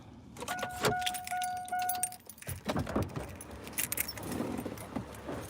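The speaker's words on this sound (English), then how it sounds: "Should just leave the car running." A car engine idles steadily in the background while keys jangle nearby, followed by rustling and handling noises close by.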